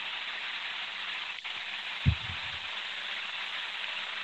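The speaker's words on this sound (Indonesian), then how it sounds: "Hujan." Steady rain hisses evenly throughout, a constant wash of fine noise with a soft low thump partway through.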